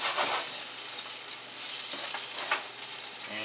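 Fresh chopped garlic sizzling in a hot pan over medium heat for a beef stir fry, a steady close frying hiss with small crackles and occasional stirring scrapes, no voices.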